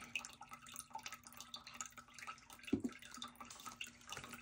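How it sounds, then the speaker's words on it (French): Small amount of water poured into a bowl, a faint trickling and dripping with a few louder splashy drops midway, quiet and close against a still room. "Un peu d'eau."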